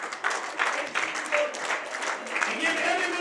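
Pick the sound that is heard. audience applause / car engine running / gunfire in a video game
audience applause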